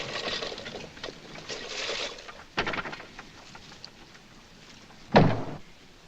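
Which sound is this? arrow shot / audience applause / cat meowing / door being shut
door being shut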